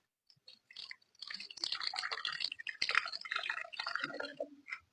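Warm water poured out while making mango juice, a close trickling and splashing stream with drips that starts softly, swells, then tapers, no voices.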